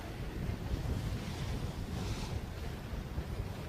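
Cold wind gusts steadily over open water during a sailing championship race, a constant loud roar of rushing air and surf noise with no talk.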